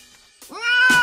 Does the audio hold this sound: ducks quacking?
no